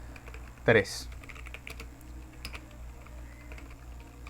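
Soft clicking keystrokes on a computer keyboard while code is typed, mostly quiet and sparse, with a voice briefly speaking.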